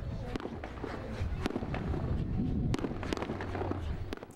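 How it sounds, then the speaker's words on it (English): A fifteen-minute fireworks display closes a day of festivities, heard as a quiet, continuous rumble of crackles and sharp pops at a distance. "The night's festivities ended with a 15-minute fireworks display"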